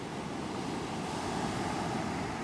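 Rough surf on California's remote Lost Coast, a steady wash of breaking waves with wind noise over the microphone, loud and continuous with no voices.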